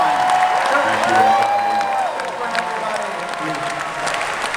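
Loud, sustained applause and cheering from a convention crowd at the New York Comic Con 2025 Matrix cast reunion panel, with a voice speaking over the clapping.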